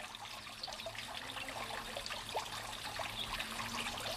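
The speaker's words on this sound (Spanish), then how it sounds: "El susurro que produce el agua" Water trickles softly and continuously from an old cloister fountain at the Bujedo monastery, a faint, gentle dribbling with light splashes in a quiet space.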